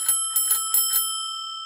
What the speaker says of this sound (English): I must admit, this bell is sounding great.